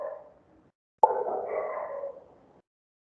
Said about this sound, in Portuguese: Segura o cachorro aí.